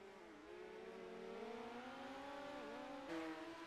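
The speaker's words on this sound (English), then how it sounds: "Glenn Reinhardt in the Fatheads Eyewear, car number 8 car on the racetrack now" A midget race car laps the dirt track at the Chili Bowl. Its high-pitched engine whines and rises and falls as it runs, heard alone and at a moderate distance.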